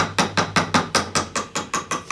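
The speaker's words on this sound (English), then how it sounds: "tap it gently with a hammer" A hammer taps a tight-fitting part on an Ashford Traveller 3 spinning wheel during assembly, giving about eleven short, evenly spaced metallic knocks, close and clear with nothing else around them.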